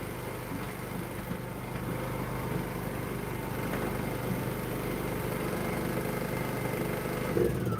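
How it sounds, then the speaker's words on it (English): A generator runs steadily, a constant mid-pitched engine drone at even loudness for several seconds, with a slight rise near the end and no speech. "Let me kill this generator"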